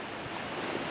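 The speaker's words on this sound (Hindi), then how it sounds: "पानी का बहाव बहुत ज्यादा तेज था" A fast-flowing, flooded seasonal drain in Ramnagar, Uttarakhand gives a brief, steady rushing wash of water, heard close with nothing else over it.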